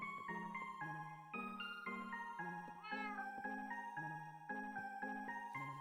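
A Minecraft cat meows a few times in the video game, soft and synthetic, mixed with steady background music tones.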